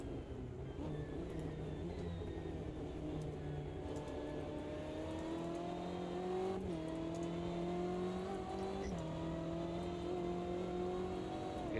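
A race car engine drones under load on a corner exit in a sim racing game of the Daytona 24, a steady tonal whine that dips briefly and climbs back, loud and continuous with no talk.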